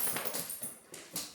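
Several dogs scramble up a flight of stairs indoors, their paws making a quick, uneven patter of soft thumps and clicks at moderate distance.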